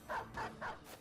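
A dog in a goblin-city survival video game gives three short bark-like yips in a steady rhythm, moderately loud and fairly close, with faint game background sound between them.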